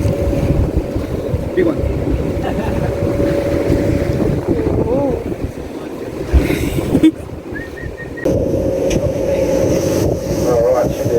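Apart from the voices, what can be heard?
wind on a boat in Milford Sound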